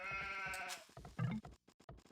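A sheep in Age of Empires II gives one loud, clear bleat with a harmonic, wavering tone, followed by game sound effects and a few short clicks.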